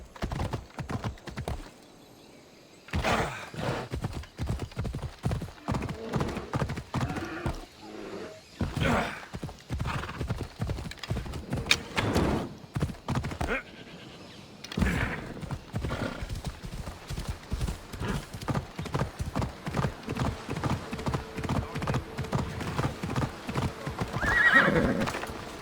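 A horse gallops with steady, rapid clip-clop hoofbeats and lets out a loud whinny near the end, in the ancient Greek world of the Assassin's Creed Odyssey game, with brief pauses and scattered game sounds around the ride.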